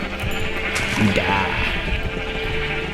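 Sheep in Minecraft bleat in a short wavering call around the middle, heard amid ongoing game noise, while someone shouts briefly.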